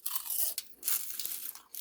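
Crisp, close crunching on baked kale chips seasoned with garlic, a series of brittle bites and chews over under two seconds, fairly quiet with no talking.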